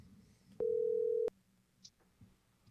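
A single steady telephone tone sounds for under a second as an outgoing call rings through on a live talk radio show, alone over a quiet background hum, followed by a faint click.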